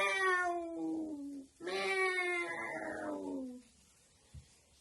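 Cats meow in a children's story, two long drawn-out wailing cries in succession, the second sliding downward, followed by a brief faint knock.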